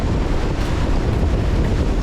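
Strong wind and big following waves at sea aboard the sailboat Tessie on the North Sea, a loud, steady roar of gusts and rushing water buffeting the microphone, with no voices.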